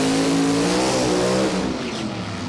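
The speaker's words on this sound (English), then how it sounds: "We've got a burnout coming through." A funny car revving hard through a burnout at a drag race, a loud, steady engine roar with a sustained droning pitch that eases slightly near the end, no voices.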